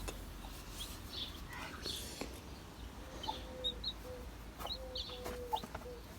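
Chicks peep in scattered high, thin calls over a soft background hiss, faint and intermittent throughout, with no talk.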